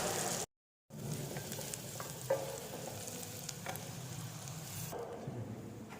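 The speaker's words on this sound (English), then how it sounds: "Now I'm going to add garlic," Chopped garlic sizzles in melted butter and oil in a pan, a steady close crackling fry with a brief gap of silence near the start and a few light stirring clicks.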